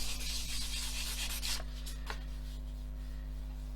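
Airfix plastic model surface being rubbed smooth up close, a soft continuous gritty scrubbing that is faint and steady, with a few brief sharper strokes partway through.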